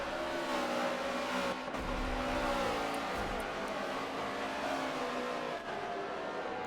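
NASCAR race cars enter the hairpin at Sonoma in a video game, with steady engine drone, shifting pitch as they brake and accelerate, and low thumps midway.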